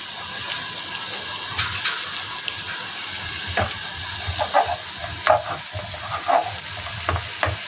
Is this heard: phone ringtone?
no